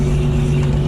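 Gas Uni Mule utility vehicle creeping along in first gear, a steady low engine drone with a constant hum that stays even and close throughout.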